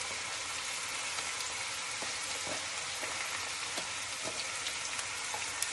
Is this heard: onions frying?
yes